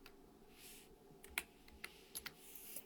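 Light typing on a computer keyboard, a few soft scattered key clicks in a quiet room, faint and irregular.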